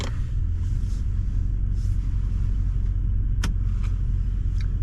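A vehicle rolls down a hill on an East Texas ranch, giving a steady, loud low rumble throughout with a few faint brief clicks and rattles.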